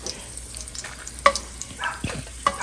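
Garlic frying in a pan on the stove, a soft continuous sizzle with faint crackles and a few sharper pops, close by and moderately quiet, with no talking.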